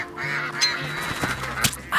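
A duck giving a few nasal, honking quacks, close by, with brief gaps between calls.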